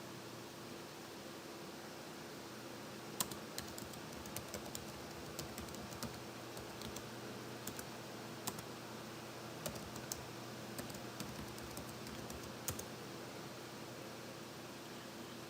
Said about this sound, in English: we are going to type in ipconfig